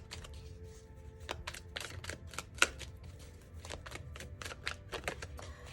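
Tarot cards shuffled by hand in a run of crisp, rapid riffling and slapping bursts, with a sharper snap near the middle, close and fairly quiet, with no talking.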